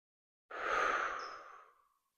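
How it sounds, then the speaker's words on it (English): One long, close, breathy exhale during a neck stretch, swelling fast and tapering off over about a second and a half, alone in silence. "Take one more deep breath."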